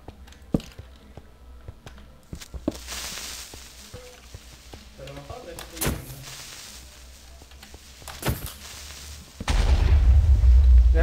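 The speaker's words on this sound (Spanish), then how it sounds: "Gracias Creeper por hacer la explosión de tu sacrificio" A creeper explodes in Minecraft 1.15.2 with a few sharp booms and pops scattered through the clip, followed by a loud rumbling blast near the end.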